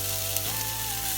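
Mushrooms and sausages sizzle steadily in a frying pan for a typical English breakfast, a constant close crackle with a faint tonal hum running underneath and no talk.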